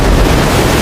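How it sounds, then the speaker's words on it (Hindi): A boat pitching among strong flood waves, a loud, continuous rush of churning water and wind-like roar filling the short moment, with no voices. "तेज लहरों के बीच नाव डगमगा रही थी"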